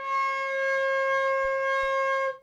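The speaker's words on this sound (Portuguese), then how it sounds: "Esse é o som do Dó." A soprano recorder sustains a single clear, steady C note, alone and fairly loud, with a couple of faint low thumps partway through before it cuts off.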